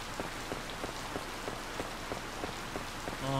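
Steady rain patters across a farm in the game Harvest Moon: Light of Hope, a dense hiss with faint drop ticks running evenly throughout and no voices.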